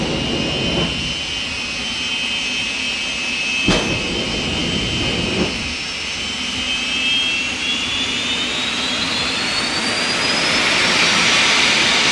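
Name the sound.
jet-powered drag racing vehicle engine at Santa Pod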